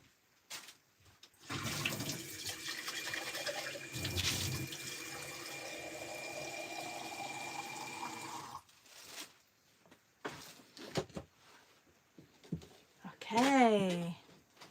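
Tap water gushes steadily for several seconds to refill a dirty gouache paint water pot on a cluttered desk, then stops, followed by scattered clinks, knocks and a brief voice.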